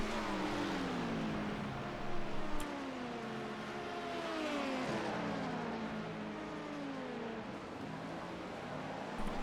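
Race car engines whine and shift in pitch during an IMSA racing video game, several cars' engines overlapping as they accelerate and pass, steady and moderately loud with no talking.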